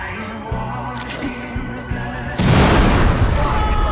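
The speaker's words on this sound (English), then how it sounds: "So if we throw a grenade here, the grenade won't injure anybody, but we'll blow up 2 of these flammable barrels." A grenade sets off flammable barrels in Wasteland 3, landing as a sudden loud blast that swells into a broad, roaring explosion sustained to the end, preceded by quieter game ambience and soft thuds.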